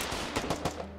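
Gunfire in an online multiplayer shooter game during a live stream: a quick burst of several sharp shots in rapid succession over a noisy game background, with no speech.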